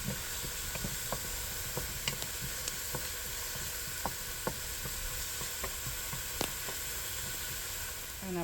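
Red snapper fries in oil with a steady, soft hiss and scattered small pops and crackles, a quiet, continuous sizzle heard close by.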